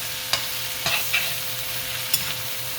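Chopped veggies sauté in a hot pan for Maggi noodles, giving a steady bright sizzle with a few scraping stirs of a utensil, close and fairly loud.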